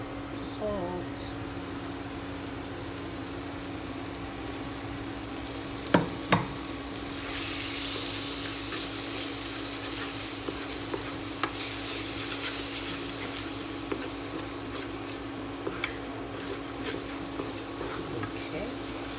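Dal, an Indian lentil curry, being stirred as it sizzles in a pan, with a steady background sizzle and occasional scraping clicks from the spoon, a louder hissing burst around the middle, and no talking.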